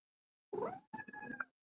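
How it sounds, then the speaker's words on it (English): A pet cat gives two short meows in quick succession, the second longer and warbling, close to the microphone in an otherwise silent room. "My cat wants to say good night."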